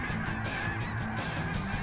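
A flock of geese honks steadily in a Canada hunting field, many overlapping nasal calls forming a constant, fairly loud chorus without voices.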